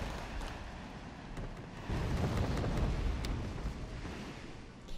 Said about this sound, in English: artillery once again from Blue, just continuing to pound the middle positions